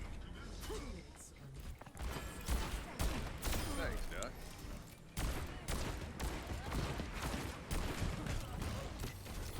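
Rapid gunfire in an Overwatch match, with bursts of shots and mechanical clatter amid a busy battle mix, under overlapping talk.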